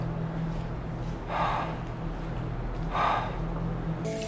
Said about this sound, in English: Their rapid breathing and cautious steps showcase just how worried they seem to be